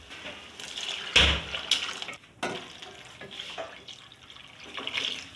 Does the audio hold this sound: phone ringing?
no